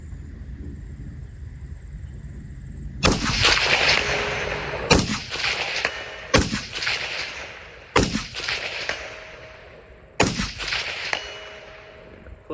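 Suppressed rifle fire through Sandman and Sierra cans, a gas blowback setup with a 14.5 barrel at a range, loud cracks landing in five separate bursts with ringing tails and metallic ping in between, no talk.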